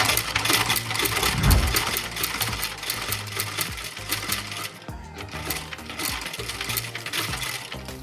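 A sewing machine run with a foot pedal stitches embroidery in fast, continuous mechanical rattling bursts, with a brief slowdown midway before resuming its steady clatter.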